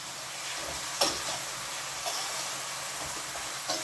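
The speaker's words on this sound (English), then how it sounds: "I'm going to put the red herring in the pot" Red herring frying in a pot for a Jamaican ackee dish, a steady close hissing sizzle with a few sharper crackles and clinks, with no talking.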